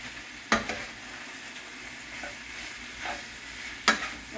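Beef browning in a pan over high heat, a steady low sizzle with a couple of sharp stirring clatters near the start and end and softer scrapes between, no talking.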